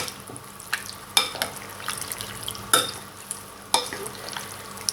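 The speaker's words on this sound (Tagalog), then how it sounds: "haluin lang natin itong maigi." A spoon stirs pork and tofu through sauce in a pan, scraping and clinking in an uneven rhythm with a few sharp taps against the cookware and a soft sizzle underneath.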